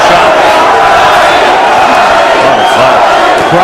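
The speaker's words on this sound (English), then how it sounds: "Crowd trying to get behind Duddy." Boxing arena crowd at the John Duddy vs Luis Ramon Campas fight roars and cheers continuously, a loud dense wall of voices with shouts rising throughout.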